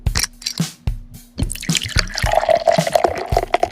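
Shotgun Wedding beer pours into a Guinness glass with close, wet glugging and dripping: uneven liquid splashes and plops give way to a steadier rising fill tone as the glass fills.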